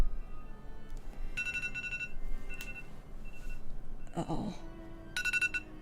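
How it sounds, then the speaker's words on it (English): A phone alarm rings in short electronic bursts of repeating tones, with pauses between them, under a quiet room and a brief spoken exclamation. "that's my alarm"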